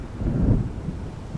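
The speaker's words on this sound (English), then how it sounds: "It seems there's a storm coming." In the video game Alan Wake, low thunder from an approaching storm rumbles for a moment amid steady wind and rain, then settles into a duller roar.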